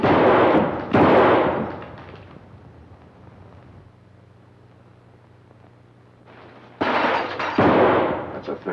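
A .38 caliber six-shooter belly gun fires in a 1940s film noir scene, two sharp loud blasts close together at the start and two more after a quiet hum-filled pause, each ringing briefly.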